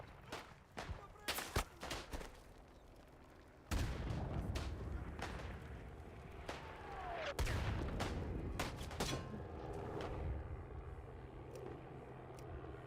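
Video game gunfire aimed at a rock: sharp bursts of shots early on, then a long rumbling roar with further scattered cracks, fairly faint overall, with some voices mixed in.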